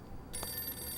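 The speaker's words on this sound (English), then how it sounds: "There's the phone again." A telephone starts ringing after a brief moment of quiet, giving a faint, bright electronic trill that carries on to the end.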